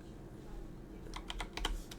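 Several quick computer keyboard key presses, clicking in a short irregular cluster near the mic against a quiet room hum, during a Blender sculpting session.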